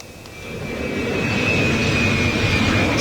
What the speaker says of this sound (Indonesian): Puluhan pesawat tanker Amerika Serikat terlihat di Bandara Ben Gurion, Israel.